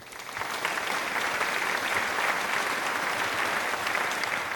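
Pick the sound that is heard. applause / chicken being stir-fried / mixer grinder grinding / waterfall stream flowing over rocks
applause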